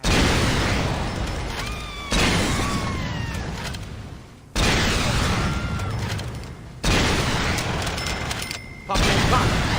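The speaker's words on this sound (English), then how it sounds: "I should use the rocket launcher" Rocket launcher blasts in a shooter video game, four heavy booming explosions spaced a couple of seconds apart, each hitting loud and then decaying with rumbling debris.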